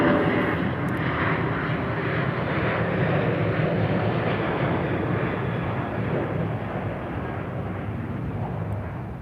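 A Sun Country airliner takes off at Minneapolis–St. Paul airport in winter, a full plane with a long roll. Its engines give a loud, continuous broadband roar that fades slowly as it moves away.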